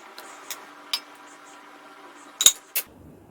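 A spoon stirs dal dhokli in a cooking pot, making a few sparse metallic clinks and scrapes against the pot, with one sharper cluster of knocks near the end, fairly close and with no talking.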